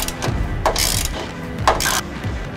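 A ratchet wrench tightens a U-bolt on a 2001-10 GM Duramax truck frame during a fuel tank install. Two bursts of quick, close metallic clicking come about a second apart.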